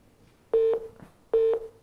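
Two identical short electronic telephone tones sound about a second apart, loud and clean over a quiet line after a caller hangs up.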